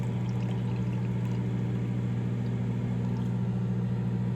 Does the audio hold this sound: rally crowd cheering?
no